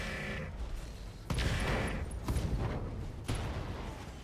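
Mech weapons fire at a Javelin in RogueTech, sharp volleys and booming impacts arriving in several distinct bursts over a low mechanical drone, moderately loud with no talk.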